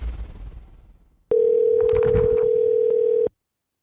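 A steady telephone dial tone sounds loud and alone for about two seconds while a call is placed to a caller on a talk show, cutting off abruptly into silence.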